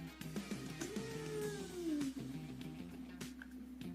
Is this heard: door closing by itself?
no